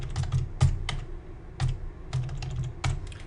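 Computer keyboard typing, close and clear, with bursts of quick clicking keystrokes separated by short pauses.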